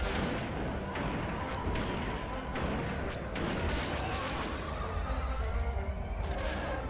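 Loud, continuous rumbling bombardment from the Star Wars: Rogue Squadron video game, with dense overlapping explosion booms and crackling blasts that keep going without a break for several seconds.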